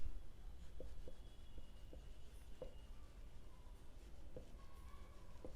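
Pen writing words on a page during a Class 12 accounts lesson: soft, steady scratching strokes with a few short taps, close and faint, with no voice over it.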